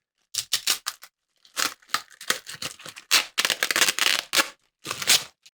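Scissors snip through a plastic Game Boy Advance shell as it is trimmed to fit a laminated IPS V5 screen, a loud, close series of crisp cutting crunches coming in quick bursts with short pauses between.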